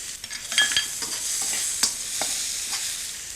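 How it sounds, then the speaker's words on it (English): Prawns stir-fried in a hot wok, a close continuous sizzle broken by scattered scrapes and clinks of the spatula as they are tossed, with no voices. "I'm adding the prawns, and you want to stir fry that all together for about a minute"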